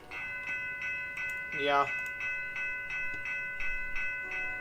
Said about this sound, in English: since the train passed by, you wanna see it?